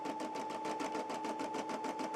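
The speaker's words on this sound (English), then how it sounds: "we're going to stitch out the die line file now" A Brother SE400 embroidery machine stitching an appliqué outline, a rapid steady rhythmic needle chatter with a constant tonal whine, close and continuous with no talk.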